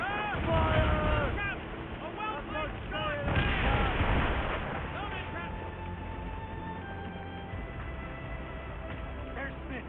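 Ship cannons boom in heavy volleys during an Assassin's Creed Rogue naval battle, with rumbling blasts over wind and sea noise while shouted voices call out between shots.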